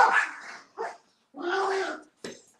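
A fired-up junkyard dog barks in three sharp, loud bursts separated by short silences, close by, with a yip-like final bark and no talk.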